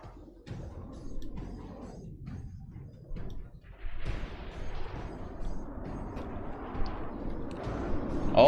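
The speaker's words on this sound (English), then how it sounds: "that's a shower of DIF shells" Shells rain down in a From the Depths naval battle as a dense, rumbling shower of impacts and blasts, growing louder and busier toward the end with no talk over it.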